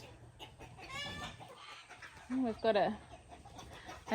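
Ducks and chickens squabble on a homestead, with two drakes fighting and hens joining in, heard as a burst of squawks and clucks in the middle distance while a person talks nearby.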